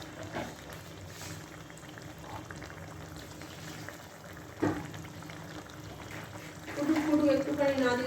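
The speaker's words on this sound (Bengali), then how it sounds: "একটুখানি ফুটে যাও।" Curry simmering and boiling in a pan gives a steady bubbling, sizzling hiss throughout, growing livelier toward the end, with a voice talking over it.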